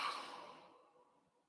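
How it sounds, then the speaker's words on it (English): A single long exhale during a calm self-compassion tapping practice, a soft breathy sigh that starts audibly and fades slowly into near silence, close and quiet with no talking. "Just taking a deep breath in and a long exhale."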